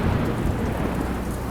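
Heavy rain pouring during a thunderstorm, a dense, steady low rumbling wash of rainfall with no distinct thunderclaps standing out.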